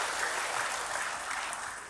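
Applause from a church congregation, a steady dense wash of clapping hands that holds throughout and fades slightly at the end.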